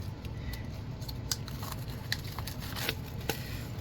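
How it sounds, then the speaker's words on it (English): Scissors snip and tear through the plastic wrapping of an album, a handful of crisp cuts and crackles over a steady low hum, close and fairly quiet with no talking. "we're just gonna actually use scissors to just very gently rip open the top"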